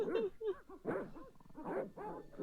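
Dogs bark and yip in the Broken Sword adventure game, a series of short, fairly close barks and whimpers repeating in an uneven rhythm with no talk over them.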